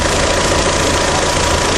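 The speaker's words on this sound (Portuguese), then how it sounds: "Aqui nós temos agora o trabalho dos dois ventiladores do sistema de arrefecimento" Two cooling-system radiator fans run beside a running GM Vectra 2.0L 8V or 2.4L 16V engine, making a loud, steady whooshing whir over the engine's low hum, close up and with no talking.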